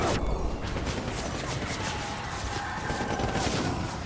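Rapid gunfire from a mounted machine gun during a soldier attack in the video game Death Stranding, dense crackling bursts over a continuous noisy battle bed, moderately loud and without talk.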